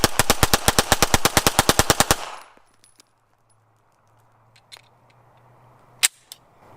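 Rapid pistol fire from a Walther P99 and a Magnum Research MR9 Eagle: about twenty loud, sharp shots in a quick, even string, then a quiet pause with a few scattered clanks and one more sharp crack.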